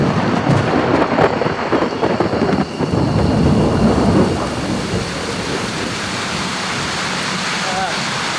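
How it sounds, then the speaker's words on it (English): Heavy rain pours steadily at night in the wilderness with deep rumbles of thunder rolling through the first few seconds, then a constant dense downpour. "It's just been pissing a rain for about 4 hours now during the night, with thunder and lightning everywhere"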